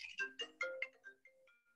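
A phone ringtone plays nearby in a quiet room, a bright electronic melody of short tonal notes that steps through a phrase and then thins to a few softer, sustained tones.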